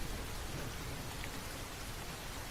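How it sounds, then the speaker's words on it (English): Steady rain hisses evenly as background ambience, a dense, soft, unbroken wash of falling drops at low volume with no voices. "Me and this rain music."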